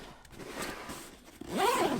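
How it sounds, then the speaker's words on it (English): A zipper on a GORUCK Rucker 4.0 Long Range 33L backpack is pulled in short, smooth runs, with a longer, louder zip near the end, close up and with no talking. "those zippers are very smooth"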